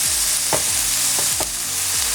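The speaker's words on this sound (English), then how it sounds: "We're just going to give that a quick stir and then go in with our roasted aubergine and our chopped baby spinach." Roasted aubergine and chopped baby spinach get stirred into a sizzling pan, with a constant frying hiss close up and a few soft scraping strokes of the spoon.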